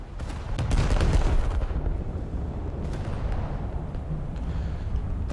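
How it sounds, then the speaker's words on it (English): Heavy naval gunfire from the IJN Kongo battleship in a naval combat game, a dense continuous rumble of booming salvo blasts with no talk. "if you won't mind me spending my next salvo firing into you"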